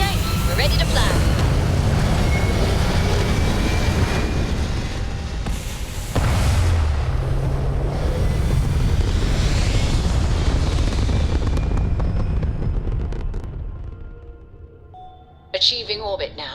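A spaceship in the game Starfield lifts off toward orbit with a loud, sustained rumbling roar and deep booms that swell, ease, and surge again, then fade near the end.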